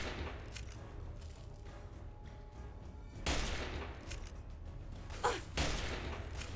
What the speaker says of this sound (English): I think there's somebody else shooting at us too.